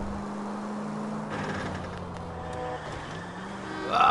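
A car driving in the video game LA Noire, its engine droning at a steady low pitch throughout, close and fairly loud, with a brief rise in revs near the end and no talking.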